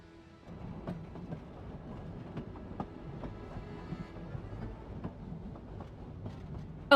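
A train in the video game Genshin Impact at Snezhnagrad station, a steady low rumble with faint rhythmic clicks of wheels over rails, moderately quiet throughout.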